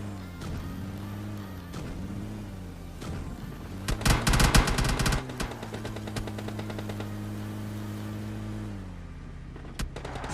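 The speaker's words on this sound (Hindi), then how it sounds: "लेकिन फिर भी मेरे ऊपर फायर करके अपनी लोकेशन रिवील कर देता है" Gunfire in the mobile battle-royale game PUBG Mobile Lite: a close, loud burst of rapid automatic shots lasting about a second, with a few scattered single shots before and after over a steady game hum.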